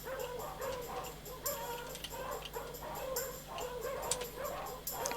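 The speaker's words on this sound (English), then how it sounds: "It sounds as though there are many dogs nearby." Many caged dogs in a video game dog pound keep up a busy chorus of barks, yips and whimpers at moderate distance, with no talking.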